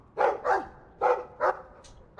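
A dog barks in the video game Dragon Age II, four or five short, close, fairly loud woofs in an uneven rhythm with brief gaps between them.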